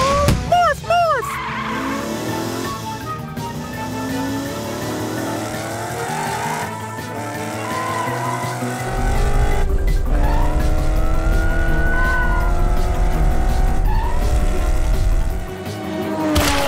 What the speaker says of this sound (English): Morphle, morph into a race car so we can catch Orphle!